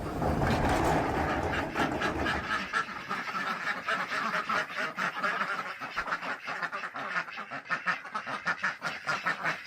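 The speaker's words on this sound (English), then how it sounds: "this is exactly what happened to these ducks" Ducks quack loudly and repeatedly at an open door in winter, a close, busy chorus of raspy calls that thins into rapid choppy bursts, with no talk.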